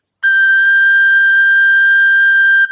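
A suling bamboo flute holds a single steady G note, clear and sustained for over two seconds at a constant pitch, played alone at close range with no voices.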